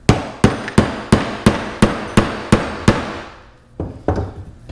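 Blunt end of a screwdriver tapping a part down on a flat surface during a 9.5 hp Johnson Evinrude outboard carburetor rebuild, with about nine sharp, evenly spaced metallic knocks followed by a pause and two more taps.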